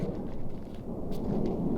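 A monsoon thunderstorm directly overhead in the New Mexico back country, a continuous deep rumbling roar of thunder with a steady wash of rain and wind, dense and enveloping throughout without any voices.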